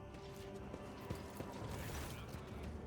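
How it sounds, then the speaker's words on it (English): Sawing and assorted tool noises from behind a closed door in Warhammer 40k: Rogue Trader, a steady muffled mechanical grind with creaking and a few sharp clanks, moderately faint and continuous throughout. "You hear the piercing sounds of a saw and other tools coming from behind it."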